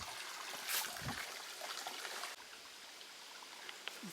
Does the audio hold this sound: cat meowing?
no